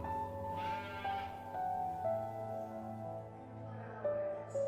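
Sheep bleat inside a barn, several long wavering calls overlapping one another, moderately near against a quiet background.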